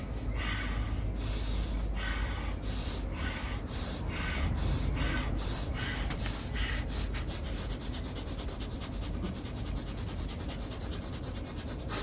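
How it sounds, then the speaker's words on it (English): Rapid fire breathing exercise: fast, forceful breaths in and out, close and steady, with a rhythm that quickens partway through into quick sharp puffs. "you're going to speed up the pace and have you breathing in and out more"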